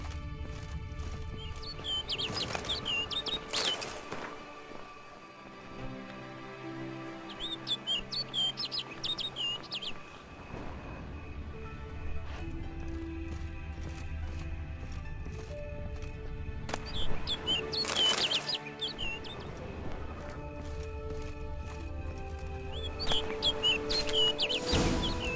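Bird in the Witcher 3 video game chirping in quick, bright bursts, then flying off, over a continuous layer of ambient game music and environmental sound, with repeated chirp clusters throughout.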